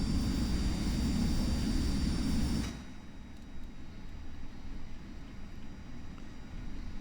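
Small jet aircraft in the X-Plane 11 flight simulator, a loud steady engine roar with high whine that abruptly drops to a quieter rumbling hum partway through, with no talking.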